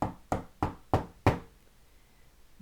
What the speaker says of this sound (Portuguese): Dona Zefa batendo na porta.